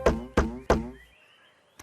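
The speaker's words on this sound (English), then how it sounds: "He knocked on the door." Three loud, evenly spaced knocks on a wooden door ring out close up, followed by quiet and a faint tap at the very end.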